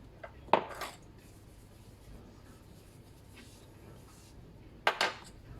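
A small ramekin and a spatula are handled in a kitchen while mixing an aloe vera face mask, giving two brief clinking knocks of ceramic and utensil several seconds apart, with faint scraping in between.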